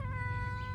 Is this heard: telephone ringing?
no